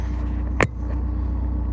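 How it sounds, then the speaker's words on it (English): A Honda S2000 out for an evening drive hums with a steady, close engine drone and road rumble; a single brief click breaks in near the middle, and no one speaks. "I had to take the S2000 out for a drive"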